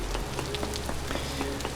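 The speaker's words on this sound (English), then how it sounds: "So even knowing it is raining, I'm out here chipping away." Steady rain falls in a survival video game, a dense even hiss with scattered drop patters, close and continuous with no voices.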